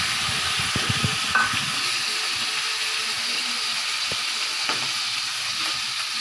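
Chicken pieces roasting in ghee in a pan over low heat, giving a steady continuous sizzle and frying hiss with occasional soft clicks and stirring sounds throughout, no voices.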